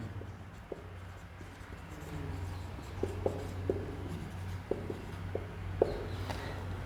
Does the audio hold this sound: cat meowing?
no